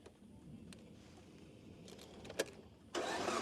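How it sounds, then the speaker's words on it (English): A car approaching on a dirt safari road: a low, faint engine rumble with a few small knocks that swells into louder road and tyre noise near the end. "Just gonna move over for this car that's coming"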